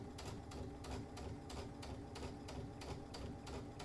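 A sewing machine runs steadily, stitching along a fabric edge, with a continuous motor hum and a fast, even needle rhythm, close and unbroken throughout, no voices.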